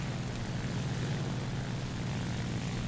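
A La-9 propeller fighter's piston engine in War Thunder drones at a constant loud level, steady and uninterrupted with no voices.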